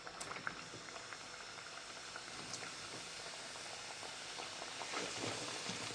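Ghughra pastries deep frying in hot oil, a steady bubbling hiss with scattered crackles and pops that swells slightly toward the end, close and moderately quiet with no talking.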